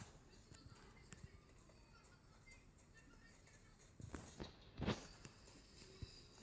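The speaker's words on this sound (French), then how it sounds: "Par exemple, là, vous entendez des bruits de pas." Faint footsteps patter in PUBG Mobile, soft and somewhat distant, with a few louder thuds near the end against a quiet background.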